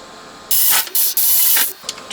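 Sony Midi-HiFi system side cover being refitted while a screw is threaded in, heard as close, loud bursts of broadband hissy friction in several uneven stretches with short gaps, alone without talk.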